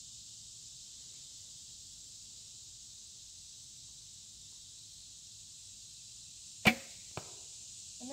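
A single arrow released from a bow near a steady insect drone outdoors, one sharp snap with a faint second thud a half-second later as it strikes, otherwise quiet.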